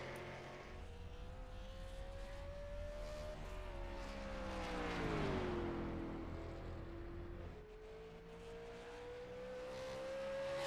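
Race car in a sim racing video game pulling onto the track, a steady engine whine rising and dipping as it accelerates and shifts, heard alone with no talk.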